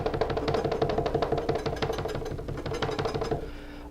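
A knife chops rapidly and steadily on a cutting board during shrimp and snow peas preparation, many close, evenly spaced knocks that continue for several seconds without talking.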